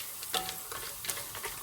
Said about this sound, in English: now what I need to do is just give that a stir